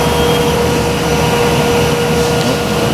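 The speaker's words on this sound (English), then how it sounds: "processed in the panel saw machine, and cut into component parts for casework" A panel saw machine cutting wood panels for casework gives a loud, constant whirring roar with a steady high whine, close by and without pause.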